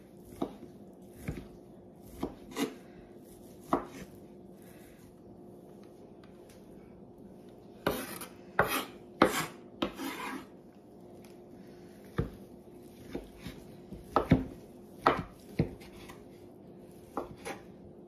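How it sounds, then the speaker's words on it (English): A knife dices two packages of Great Value honey ham on a cutting surface, giving sharp, irregular chopping taps that cluster in quick bursts with short pauses between, close and fairly clear, with no talking. "I'm going to finally dice this up. Both packages too. Run my knife through it every way."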